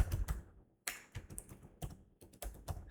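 Code typed on a computer keyboard, close, uneven clusters of quick key taps with short pauses between bursts and no voice.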